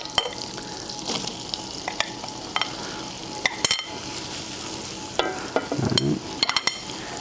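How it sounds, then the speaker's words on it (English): Onions hit melted butter in a hot pan and fry with a steady low sizzle, broken by sharp scrapes and clacks of a utensil stirring them around. "Now I'm going to add the onions."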